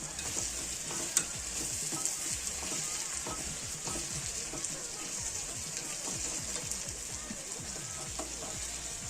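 Garden vegetables sizzle and fry steadily in a pan, with a continuous crackling hiss and scraping stirs from a stirring tool breaking them up, close and constant throughout.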